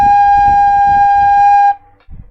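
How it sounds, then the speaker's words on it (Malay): A recorder holds a single sustained note G for about two seconds, a clear steady tone with overtones that stops abruptly, with faint room noise and background rumble underneath. "Okay, jadi itu adalah bunyi note G."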